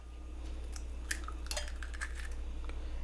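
Another egg cracked for carbonara: a few faint, scattered clicks and taps of shell against a bowl, spaced irregularly over low kitchen room tone.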